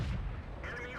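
A single heavy tank gun blast booms from World of Tanks, a loud low thump followed by a short rumbling tail and some mechanical clatter.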